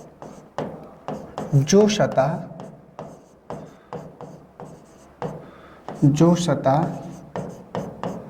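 A pen writes a note by hand during a reasoning class on dice, with short scratchy strokes in bursts, close and fairly loud, while someone talks over them.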